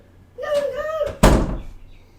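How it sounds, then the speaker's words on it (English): A door gives a sharp thunk as it opens or bangs, just after a brief voice or whine, then a short resonant decay dies away. "I'm going to jump up and open the door."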